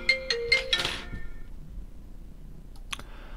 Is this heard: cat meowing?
no